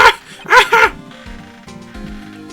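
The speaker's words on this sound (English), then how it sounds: "Growl." A cartoonish dog in the Phoenix Wright: Ace Attorney Justice for All game gives two or three sharp, loud barks, then low growling follows against quiet game music.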